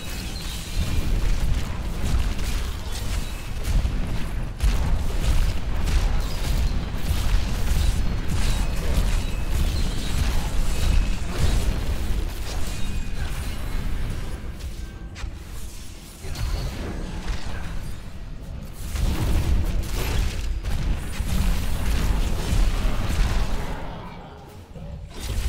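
Explosions crash and rumble from Diablo III gameplay with a Necromancer poison build, a dense, loud, continuous barrage of booming bursts that briefly thins near the middle and fades at the end.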